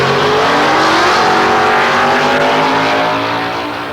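Drag racing cars launching in pairs, a loud, sustained close-up engine roar that holds steady for several seconds before easing off slightly at the end.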